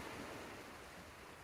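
Ocean waves at a shipbreaking yard, a steady close wash of surf and wind noise holding an even level for the whole brief stretch, with no voices.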